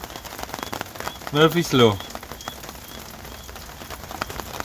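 Rain falling outdoors at a camp on an outreach trip in Zambia: a steady close patter and hiss on a surface runs throughout, with a voice briefly speaking over it.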